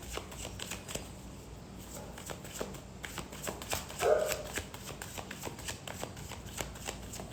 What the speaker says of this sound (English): Let me get one more card for Sagittarius.